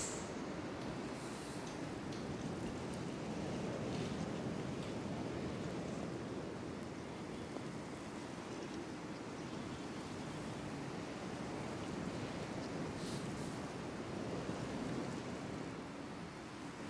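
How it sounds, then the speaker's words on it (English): A waterfall on a golf course gives a steady, unbroken rush of water, broad and constant like heavy surf, heard from a distance with no break in the roar. "Got a waterfall back there in the background."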